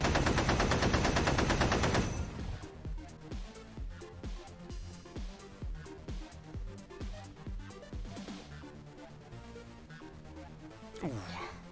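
Heavy machine gun fire in a Lancer tabletop RPG session: a loud, dense burst opens, then gives way to rhythmic thumping pulses that run under voices until a sharp swell near the end.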